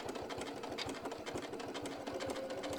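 A sewing machine stitches steadily around a curve, its rapid, even needle chatter running continuously at a soft, close level with no talking.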